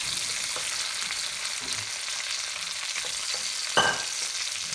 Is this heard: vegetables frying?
yes